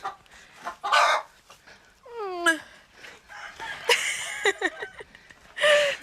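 Hens clucking and calling inside a farm henhouse, a rooster-like crow rising among several rapid bird calls, loud and close, with low rustling and a few faint voices in the background.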